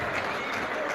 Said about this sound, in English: Cheers from the crowd as Jaden Jefferson comes back in